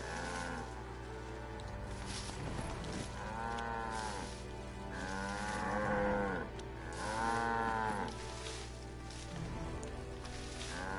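A cow in the video game Black Desert Online gives several long, drawn-out moos in a row over a steady droning game ambience, moderately loud with no talking.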